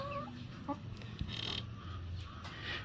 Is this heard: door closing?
no